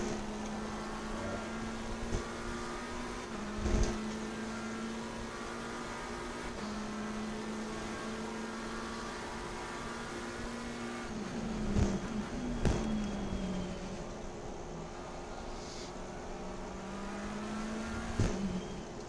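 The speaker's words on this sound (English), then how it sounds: "Having to use a bit of engine braking now." A race car at Silverstone in a racing video game drones steadily under engine braking, with a sustained engine tone that shifts pitch and brief sharp clicks and bumps recurring along the way.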